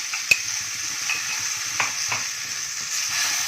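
Okra (bhendi) frying with masala in a pan over a low flame, a soft steady sizzle with a few sharp scrapes and taps of the stirring spoon, close and alone without voices.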